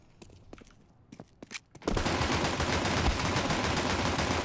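Counter-Strike 2 gunfire: a few sharp separate shots and footsteps at first, then a sudden dense burst of sustained automatic fire that stays loud and continuous to the end.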